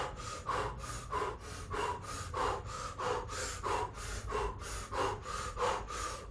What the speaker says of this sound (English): Now we're going to add cannon breath, which is O mouth, breath of fire.